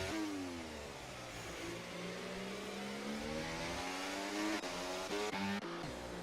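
A Williams race car engine in a racing video game revs hard and continuously, its pitch climbing and dipping through gear changes, with brief tire squeal near the end. The sound stays loud and close throughout.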